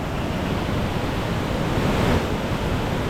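Water rushes over small waterfalls along a forest trail at Foz do Iguaçu, a dense, steady, powerful roar that fills the whole clip with no voices.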